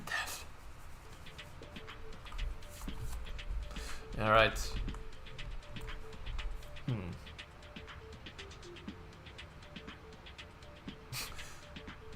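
Pigeon cooing in a Garry's Mod game scene, a soft warbling coo rising briefly in the middle, with a second faint coo later, over quiet clicks and low background hum; a voice speaks briefly.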